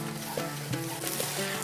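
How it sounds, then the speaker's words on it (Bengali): Grated potato frying in oil in a pan for a vegetarian fasting-day gravy, a soft continuous sizzle with a few stirring scrapes, close and fairly quiet, with no talking. "এরপর এই তেলের সাথে আলুটাকে খুব সুন্দরভাবে কষিয়ে নিতে হবে"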